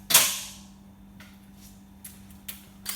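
An impact gun works loose a diesel injector on a Toyota Hilux Vigo: one loud, sharp crack up close, then a few fainter clicks and taps over a steady low hum.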